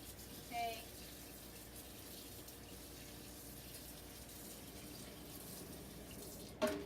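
A sink tap runs in a steady, fairly quiet rush of water while a brush is rinsed under it, with a small clink near the start and another near the end.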